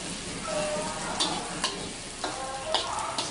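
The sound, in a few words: food frying in oil in a pan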